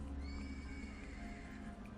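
A horse in a roleplaying game whinnies over a steady low background hum, the call stretched across a couple of seconds at moderate loudness with faint hoof clopping.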